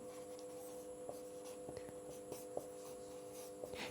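Chalk or marker writing on a board during a physics lecture on Kirchhoff's law: faint scratchy strokes and light taps over a steady electrical hum, with no talking.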